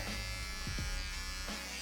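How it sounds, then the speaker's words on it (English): An electric shaver trims hair during a low skin fade haircut with a design line, a close, steady buzzing with brief shifts in pitch as the blades move across the head. "with this shaver right here, I just turn back"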